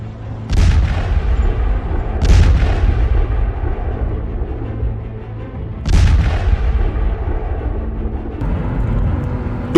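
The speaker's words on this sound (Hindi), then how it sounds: "डोनेत्स्क क्षेत्र के सोल्वियांस्क में रूसी गाइडेड एरियल बमों ने जबरदस्त धमाके किए।" Guided aerial bomb and missile strikes in Ukraine, in Sloviansk in the Donetsk region: three heavy, rumbling booms a few seconds apart over a constant low roar, loud and reverberant at a distance.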